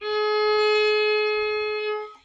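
A steady musical note A tuned to 440 hertz holds evenly for about two seconds, clean and alone, then fades out.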